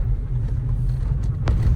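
Car driven fast on a road during a family birthday outing, a steady low engine and road rumble heard from inside or close by, with one brief click near the end.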